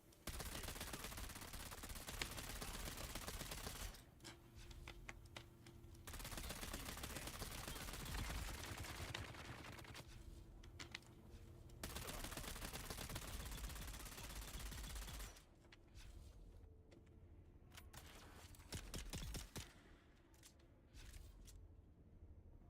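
Rapid automatic fire from a disruptor gun in the video game Dune Awakening, loud dense bursts running through most of the stretch, broken by short quieter gaps between volleys.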